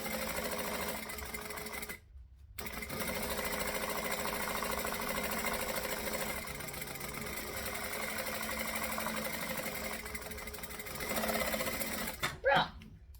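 A sewing machine stitches fabric pieces of a travel bag together, running steadily and fairly loud for most of the stretch with a brief pause early on and a short back stitch near the end.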